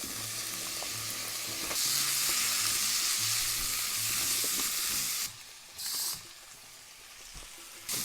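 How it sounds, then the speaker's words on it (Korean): Garlic, onion and potato sauté in a little extra virgin olive oil, a steady loud sizzle with stirring scrapes and clinks. Partway through, the frying hiss drops away abruptly, then briefly returns in short flares. "자, 이 상태에서요, 마늘하고 양파하고 감자하고 넣어줍니다."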